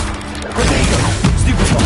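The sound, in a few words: spell-casting combat effects in the Hogwarts Legacy video game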